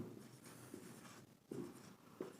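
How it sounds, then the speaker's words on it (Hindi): A pen scratches across paper at close range as the 7 times table is written out. Soft strokes come in short, uneven bursts with small taps between the numbers, and there is no talk. "हम एक बार 7 की टेबल लिखते हैं यहाँ पर"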